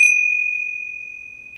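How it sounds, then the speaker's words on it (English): A single struck metal gong opens a Hindu puja, its clear, sustained ring starting sharply and decaying slowly while holding one steady pitch, alone and close. "I'm going to open and close the puja with a gong."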